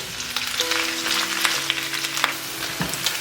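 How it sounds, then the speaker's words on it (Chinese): Beef offal stir-frying in hot oil with ginger and garlic in a wok, a steady close sizzle and crackle with faint scraping and stirring throughout. "锅里油温热了，先爆香姜蒜。 接着加入牛杂"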